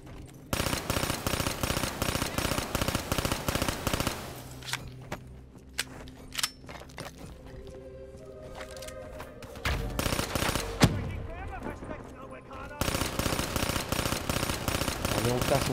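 Rapid automatic gunfire in the video game Black Ops III, loud sustained bursts at the start and end with a quieter gap of scattered single shots and clatter in between, a voice speaking over part of it.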